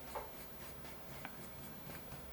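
A 2B pencil scratches and strokes across a sheet of paper, a faint, close dry scribbling in short repeated strokes with no speech.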